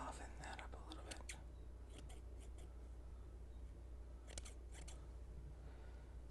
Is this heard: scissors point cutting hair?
yes